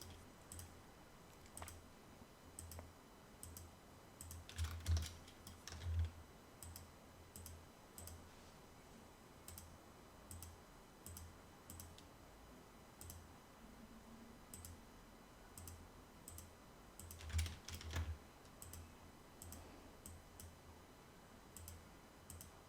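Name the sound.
computer keyboard keys pressed, Shift and Control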